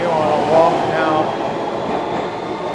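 A New York City subway train rumbles and squeals in the 49th Street subway station, a steady loud roar with some brief metallic screeching early on, with no speech.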